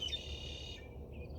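Birds chirping outdoors on a sunny day, a few thin high calls over steady low background rumble, fading out partway through.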